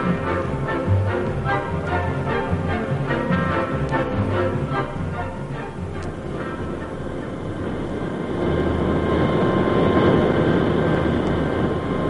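A passenger airplane takes off, a steady broadband engine roar with a rising hum that stays loud and close throughout, no voices over it.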